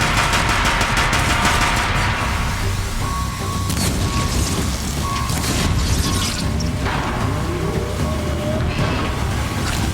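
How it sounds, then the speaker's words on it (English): Deathbringer gun in Horizon Zero Dawn firing in dense, rapid automatic bursts with heavy booming impacts and mechanical clatter, loud and continuous throughout. "Deathbringer gun removed."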